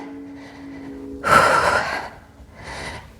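A forceful, breathy exhale with a nasal hiss during a yoga core exercise, followed by a quieter second breath, close to the mic over a faint low hum.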